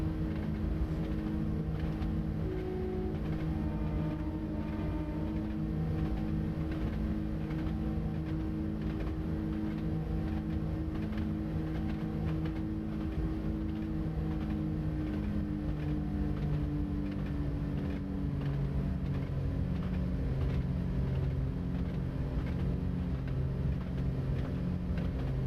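A train in Train Simulator 2020 pulls up a long prolonged hill on the Fife Circle Line, a steady droning engine hum with layered tones that slowly shift in pitch as it accelerates, continuous and unbroken.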